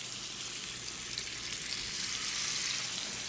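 A peppercorn-crusted sirloin sears in extra virgin olive oil in a preheated pan, giving a steady, dense sizzle that holds at an even level throughout with no talking.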